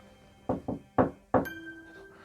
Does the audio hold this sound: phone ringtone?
no